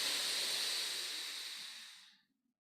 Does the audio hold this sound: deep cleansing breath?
yes